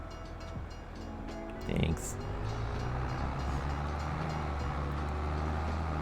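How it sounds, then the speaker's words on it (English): A steady low rumble of a train rolls on continuously in Farming Simulator 22, a constant droning mechanical bed of sound while a voice briefly speaks. "let me get the train coming back again"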